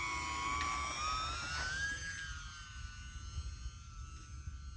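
High, thin electric motor whine of an E-flite Turbo Timber UMX RC plane at about 30% takeoff throttle with flaps set. It rises in pitch, then holds steady over low wind rumble.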